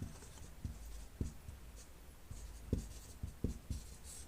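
A marker or chalk taps and scratches across a board in short strokes, quiet and close, with several sharp contact ticks over a soft room hiss.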